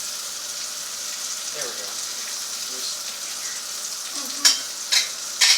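Meat frying in a pan on a stovetop burner gives a steady, close sizzling hiss throughout, with a few brief louder crackles near the end and a short spoken phrase partway through.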